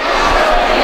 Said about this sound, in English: We got to go big cheer here by the crowd.